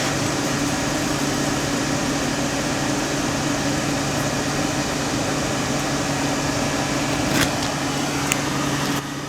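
Home water pump motor running steadily after being switched on, a continuous close hum with low tonal bands that holds level throughout, with a couple of faint clicks near the end.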